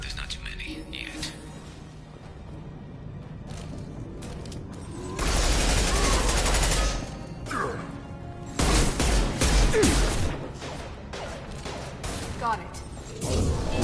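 Heavy gunfire in the shooter game Mass Effect, bursts of rattling shots and crashing impacts coming in waves over a dense backdrop of combat noise, with a brief spoken line in the middle.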